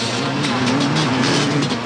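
A 500cc motocross motorcycle races in a 1989 European 500 Grand Prix, its loud engine droning and revving up close without a break.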